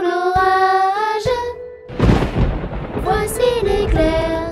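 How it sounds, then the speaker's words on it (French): Thunder in a rainstorm surges up for about a second as a loud, rough rumble that rolls between sustained melodic tones. "Entends-tu le tonnerre? Il roule en approchant."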